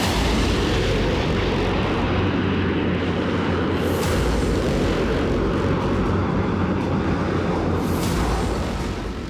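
F-16 fighter jets flying over Florida's Mar-a-Lago, a loud continuous roaring rumble of jet engines that stays steady throughout.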